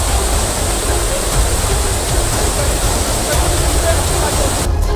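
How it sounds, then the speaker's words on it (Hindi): Floodwater rushing through a swollen drain near a road on the way to Badrinath, a loud, constant roaring torrent of broadband noise, close and unbroken. "नाले में पानी इतनी तेजी से आया कि सड़क का एक हिस्सा पानी में बह गया"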